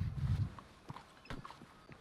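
Horse hooves clip-clop at a walking pace while riding in Red Dead Redemption, faint and steady, with a few soft irregular steps.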